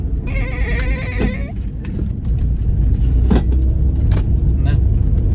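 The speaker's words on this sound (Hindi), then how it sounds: "और हमने यहाँ से गाड़ी मोड़ ली" A car being driven and turned around, its loud low engine rumble running throughout, broken by a few squeaky tones and sharp clicks, with voices faintly mixed in.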